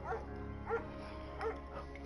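A German Shepherd named Mayhem barks in the video game Firewatch, giving three or four short barks spaced about half a second to three-quarters of a second apart over a steady hum of game music or ambience.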